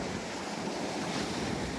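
Seaside surf and wind on a coast in Pattani, a steady broadband wash of waves with gusting wind noise on the microphone and no voices.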